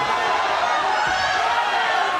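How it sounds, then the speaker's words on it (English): Crowd at an amateur MMA fight in Nepal, a steady wash of cheering and roaring voices sustained loudly across the whole moment without breaks, with no distinct individual words audible. "the crowd is going crazy right now"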